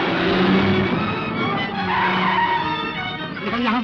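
A car brakes hard and skids to a stop with a loud, drawn-out tire screech, a sharp rasping slide over engine noise, with a voice briefly audible.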